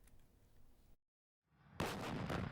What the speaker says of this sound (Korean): 국군의 주력 무기 자주포